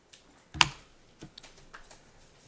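Keystrokes on a computer keyboard while entering a CAD command: one sharp, fairly close key press, then a few lighter scattered taps in an otherwise quiet room.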